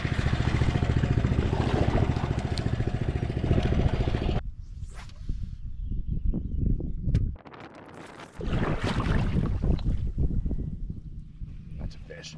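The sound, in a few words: mud motor boat engine running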